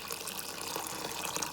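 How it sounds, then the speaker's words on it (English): Warm water pours steadily into a bowl of chickpeas being soaked for a quinoa and chickpea salad, a close, continuous splashing gush with no voices. "we'll start by soaking our chickpeas with some warm water"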